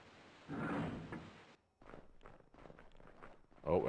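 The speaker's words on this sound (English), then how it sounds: "Oh, I hear footsteps." Footsteps in Tomb Raider Remastered II, a handful of muffled thuds and shuffles close by, with a louder scuffing burst early on, then a pause before quieter uneven steps and knocks.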